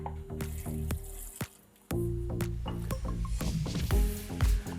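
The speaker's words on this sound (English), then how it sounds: "I'm just going to put a little bit of water on it" Water is poured into a pan of radish cooking with sugar, salt and a knob of butter, giving wet sizzling squelches, drips and clatters that come and go, with one brief near-silent gap.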